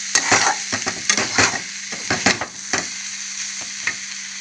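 Curry frying in a pan on a stove, a steady close sizzle broken by repeated scraping and stirring strokes, with no voices.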